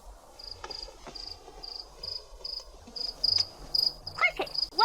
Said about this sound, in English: Cricket! Where's the cricket?